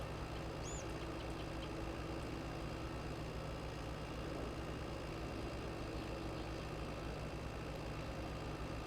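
A tractor engine in Farming Simulator 22 runs at a steady idle-like hum with a low droning tone, continuous and even throughout, with no talking.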